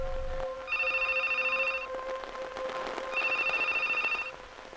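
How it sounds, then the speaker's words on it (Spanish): A telephone rings in an office, two bursts of a bright electronic trill separated by a pause, heard over a low steady hum with no one speaking. "el teléfono sonó, rompiendo el silencio de la oficina"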